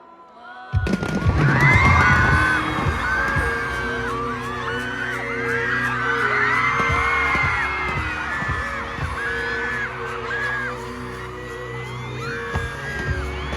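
Fireworks burst in coordinated volleys at a large stadium concert, with repeated booming bangs over sustained crowd screaming and cheering.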